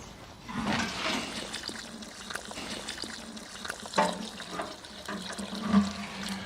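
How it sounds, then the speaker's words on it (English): Comfrey concentrate poured into a watering can of water in a garden, a splashing, trickling liquid stream with some louder gushes and knocks, fairly close, with no talking. "it's simply a case of adding the comfrey concentrate so that it's approximately 1 part comfrey to 20"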